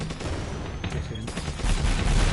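Gunfire in the PSVR wave shooter Drone Striker, a loud, rapid volley of close shots that grows heavier toward the end, with no voices.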